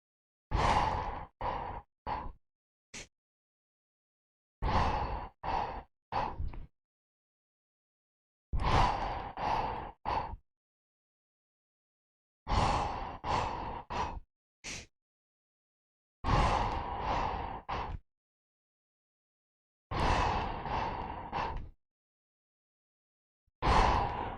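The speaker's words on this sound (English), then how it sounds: "Now, power core breathing." Power core breathing exercise: a person repeatedly inhales and exhales forcefully in clustered rhythmic bursts of several quick breaths, separated by pauses, close and breathy with no talking.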